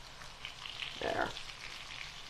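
Chicken frying in a cast iron skillet, a soft steady sizzle with a brief louder crackling burst midway, close and fairly quiet, no talk.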